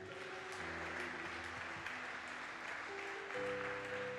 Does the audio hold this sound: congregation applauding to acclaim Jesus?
yes